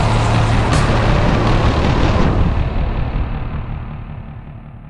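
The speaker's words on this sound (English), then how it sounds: "gets back into the armored car with his ghoulish thugs and drives off" An armored car in an audio drama pulls away after its occupants climb in, giving a loud, heavy engine roar with a brief hiss early on that fades steadily as the vehicle moves off.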